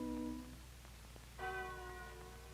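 Westerkerk church bell in Amsterdam ringing in two distinct strikes, each with a bright harmonic tone that hums and fades, the second louder and sustained, over a low steady background.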